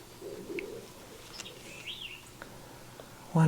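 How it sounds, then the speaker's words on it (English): Birds calling outdoors: soft, scattered coos and chirps from a bird outside, faint and somewhat distant over a quiet background. "bird outside is so beautiful"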